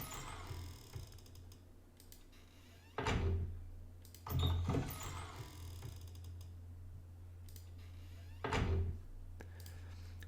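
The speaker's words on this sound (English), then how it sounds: "We have some other wooden, like a creaky wooden door." A creaky wooden door sound effect plays in a few separate bursts, each a short creak or knock, fairly quiet over a steady low hum with no one talking.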